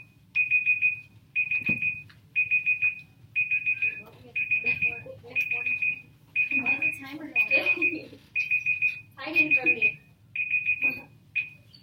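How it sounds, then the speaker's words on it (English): A timer alarm beeps in about a dozen evenly spaced, rapid chirping bursts, loud and close, while a person talks over part of it. "I have 2 timers going"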